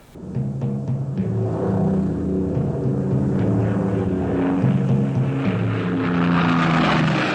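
Propeller aircraft drone steadily overhead in a scene from the war film The Longest Day, a loud, continuous layered engine hum that holds throughout without talk.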